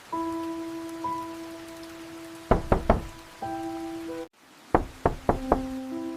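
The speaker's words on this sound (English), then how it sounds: "Let us knock gently." Two gentle knocks on a neighbour's front door in the evening, each a quick cluster of three soft raps, separated by a pause, with steady rain and a faint tonal hum in the background.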